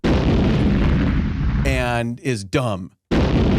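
Sound-effect gunshots, several sharp loud bursts crashing in quick succession, dense and booming, with someone talking before and between the blasts.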